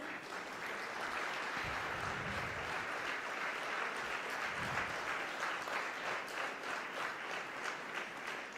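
Sustained applause from a conference audience during a felicitation ceremony, dense and steady clapping that fills the whole stretch without pause.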